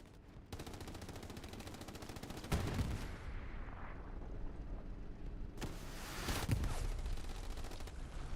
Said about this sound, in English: Got some shots on from the front. Not going to do a whole lot of damage to the Panther that way